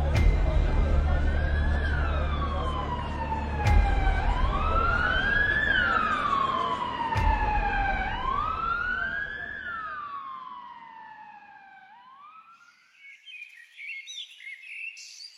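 An ambulance siren wails in long rising and falling sweeps over a low rumbling background, then fades away into the distance, leaving faint bird chirps, used as a sound effect in a psychological horror story.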